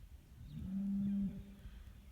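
Young white bull among highland cattle bellowing once, a low sustained moaning bellow lasting under a second, moderately distant, over faint outdoor background noise.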